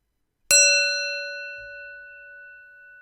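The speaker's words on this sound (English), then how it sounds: "This is the meditation bell, guys, here." A meditation bell is struck once, its clear metallic tone ringing out and slowly fading over about two and a half seconds in a quiet room.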